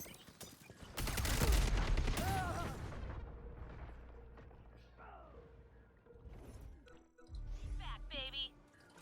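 Heavy automatic gunfire in the shooter game Concord, a loud, dense volley of shots with hard recoil that dominates the first seconds, then quieter bursts and game effects return near the end, with some voice activity mixed in.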